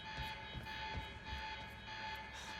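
A steady electronic alarm drones with a constant high tone inside the video game Quantum Break, layered over rhythmic low thumps and clatter that pulse throughout.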